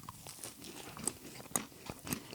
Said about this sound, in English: All right, let's take this bite.